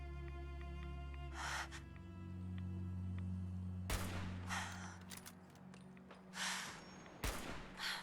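Gunfire in the video game Fallout 4: Far Harbor: a few loud, sharp broadband shots burst out over a steady humming in-game ambience, spaced irregularly across the stretch with quieter gaps between them.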